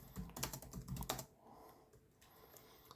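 Keys on a Lenovo ThinkPad T480 laptop keyboard clack in a quick burst of close, crisp taps, followed by a quieter stretch with a few soft presses.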